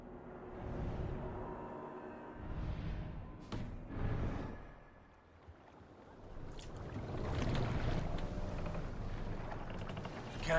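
A Viking longship moves across open water in Assassin's Creed Valhalla, with a rushing wash of water and wind rising and falling, one sharp knock midway and a swell of surging water toward the end, without voices.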